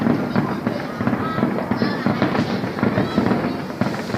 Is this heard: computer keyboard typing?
no